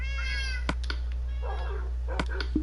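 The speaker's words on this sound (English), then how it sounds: "the cat's still wandering around" Minecraft cat meowing in a game world, several short, clear mews spaced irregularly over a steady low background hum, with a brief tonal call near the start.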